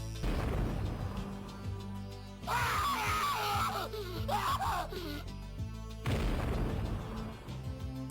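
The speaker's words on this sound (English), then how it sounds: "If she dies during any point in this level, Wex will do this absolutely shrill scream that just haunts my nightmares" Wex, a character in the video game Wild 9, lets out shrill dying screams in distressed bursts between stretches of game music and impacts, loud and close.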